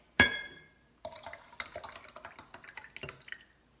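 Milk poured into a container while making SCD yogurt, a short splashy onset followed by a soft, irregular trickle and dribble, close up and quiet.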